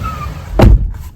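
One loud door slam lands as a heavy, close thump with a short sharp crack, standing alone over a quiet room background.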